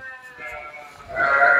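Sheep on a Brazilian farm bleat while being herded, a couple of wavering bleats rising louder toward the end, close by with soft voices of the herders around them.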